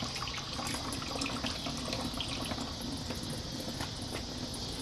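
Green coolant drains from the drain bolt hole of a Yamaha R3/R25 motorcycle engine during a coolant flush, a steady, continuous trickling and splashing of liquid with no talking.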